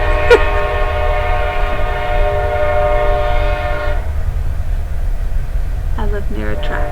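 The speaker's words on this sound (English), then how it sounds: "Forgive the train." A train on a nearby track sounds a long, loud horn blast of about four seconds, and its rumble continues after the horn stops, with someone speaking briefly near the end.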